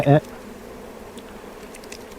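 Honey bees buzz around a hive frame of shallow capped honey in a vineyard setting, a low steady drone at moderate distance after a brief louder burst at the start.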